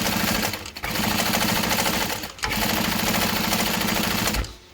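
A sewing machine stitches a hobo bag in loud, rapid mechanical bursts, two long runs of buzzing stitches separated by short pauses, close up, ending as the machine stops.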